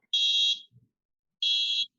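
An electronic buzzer on a HaloCode board sounds two steady high-pitched beeps, each about half a second long, separated by a gap of nearly a second, close and clear with no talking.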